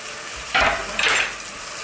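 Chopped onion and sauce are tipped into a hot pan with sliced Italian sausage and vegetables, giving two quick loud sizzling bursts over a steady background hiss.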